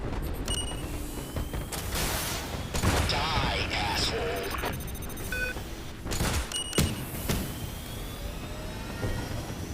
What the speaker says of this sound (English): Looks like I was getting shot by some alien weapons.